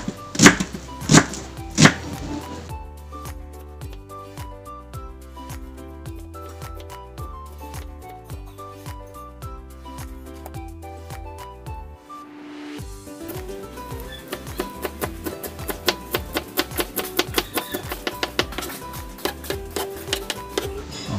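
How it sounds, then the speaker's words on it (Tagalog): Oregano leaves are chopped small with a knife on a board, a run of quick rhythmic taps, close and distinct, pausing briefly midway before resuming with sharper cuts, with music playing underneath. "Gagayatin natin ito ng maliliit."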